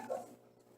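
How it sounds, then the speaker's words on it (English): A single short dog bark, fairly faint and slightly distant, with no talking around it. "my dog's barking"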